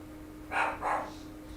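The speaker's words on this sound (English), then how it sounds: "Dogs like to bark." A dog gives two quick soft barks or huffs in close succession, fairly faint over a quiet background hum, with no one talking.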